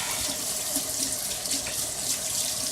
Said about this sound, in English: I'm going to wash my hands here.